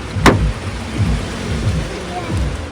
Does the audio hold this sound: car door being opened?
yes